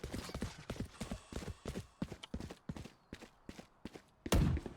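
Rapid footsteps in Valorant, a run of sharp, close steps at a quick, slightly uneven pace with a louder thud near the end; no talking.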